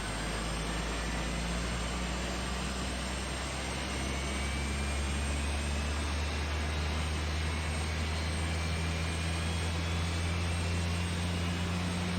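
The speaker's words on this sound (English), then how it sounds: "Then you start engine 2 and then you do the same." Helicopter engine spinning up in the video game Arma 3, a steady, loud turbine whine and broad roar with a low droning hum, continuous and unbroken throughout with no voices.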